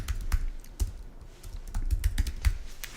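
Someone types a name on a computer keyboard, crisp clicking keystrokes in uneven bursts, close and clear with no talking.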